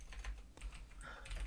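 Computer keyboard typing during an online tabletop role-playing session, a quick irregular patter of key clicks heard close up with no talk over it.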